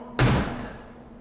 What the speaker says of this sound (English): with a loud slam of the door